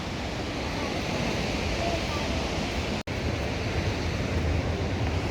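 Saraswati river rushing near Bhim Pul in Mana village, a steady loud roar of churning water with no breaks apart from one instant dropout.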